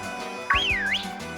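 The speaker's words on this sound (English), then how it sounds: "I didn't realise we could whistle in this game" A game character in Pokemon Sword whistles a short, bright, swooping tune lasting under a second, clear and close over quiet background music.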